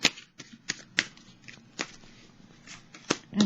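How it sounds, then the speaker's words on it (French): Tarot cards are laid down one by one with light, papery slaps and flicks at uneven intervals, close and fairly quiet, with no talking. "Je vais déposer des petites cartes sur chacune d'elles"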